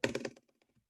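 Quick keystrokes on a computer keyboard, a rapid burst of close clattering taps that fades into a few lighter, sparser clicks.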